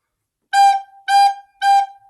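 A recorder plays the G note in three short, evenly spaced tones with brief silences between, clean and close with no voices.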